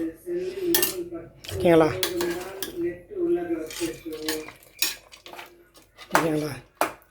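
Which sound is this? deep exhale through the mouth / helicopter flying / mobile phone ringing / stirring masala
stirring masala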